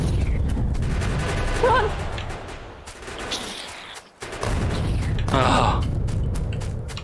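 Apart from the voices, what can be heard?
grenade explosions in the video game Factorio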